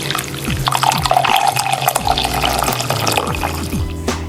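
Hot water trickling through ground coffee in a drip coffee maker, a close running pour with gurgles and drips, sharp clinks near the end, no talk over it.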